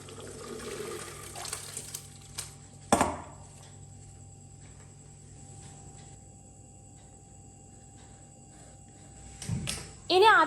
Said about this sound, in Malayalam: അപ്പോൾ ദാ ഇനി ഇതൊന്ന് ഊറ്റി വെക്കുകയാണ്.